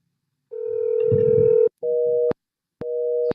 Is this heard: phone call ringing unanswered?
yes